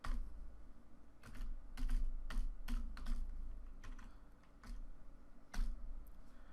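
Computer keyboard typing PHP code, irregular bursts of quick clicking keystrokes with short pauses, close and fairly quiet, with no voices.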